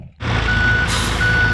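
Construction trucks and excavators working at a creek restoration site, with a loud steady engine rumble and a high reversing beep repeating over it, close and continuous.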